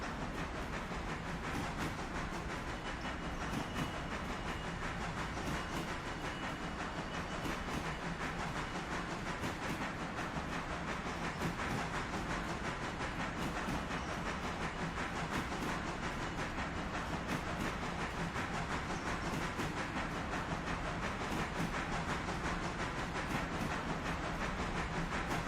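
Railroader game locomotive running light, a steady rumbling drone with hiss and faint rhythmic clatter held throughout, no voices.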